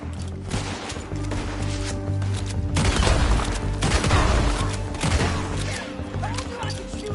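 A shootout in Red Dead Redemption 2 brings a rapid fusillade of close gunshots that swells into a loud burst in the middle and then tapers into scattered shots, with game dialogue nearby.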